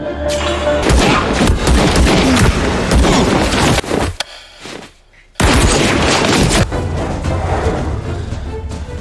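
Loud bursts of gunfire fill a drama scene as Alpha troops open fire on a man, dense rapid shots with a brief quiet gap before the firing resumes.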